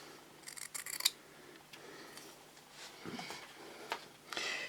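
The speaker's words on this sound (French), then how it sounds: "Donc je coupe juste le long de la ligne" Fabric scissors snip along a drawn line on patchwork cotton, a series of crisp close cuts clustered early, then a few softer snips and a final rustling cut, with no talking.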